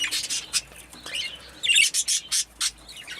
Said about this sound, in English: he's squawking at her in a way that says he's in love